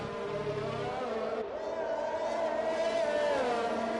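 Aston Martin race cars in a racing video game pass through the swimming pool section at Monaco, their engines a steady, loud, high whine that rises and dips in pitch as they go by close together.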